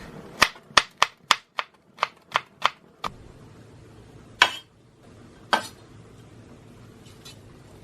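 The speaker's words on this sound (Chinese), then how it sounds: "洋葱切成丝， 辣椒也切一下" A knife chops onion and chili on a cutting board in a rapid run of about nine sharp, close knocks, followed after a pause by two heavier isolated chops.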